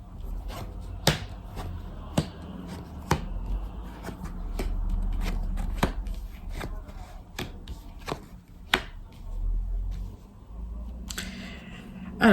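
Tarot or Lenormand cards, including a Gilded deck, are handled in a quiet room, giving a series of sharp, close, crisp snaps and taps at irregular intervals over a low background hum.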